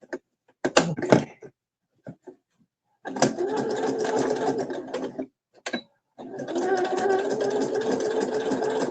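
A sewing machine stitches through a thick bag in two long runs separated by a short pause, steady and close, with brief bursts of talk before the stitching starts.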